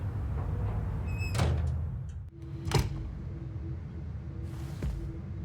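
A back door opening in the video game Twin Mirror, heard as a couple of distinct creaks and thumps over low rumbling ambience, followed by a faint sustained tone, with no talk.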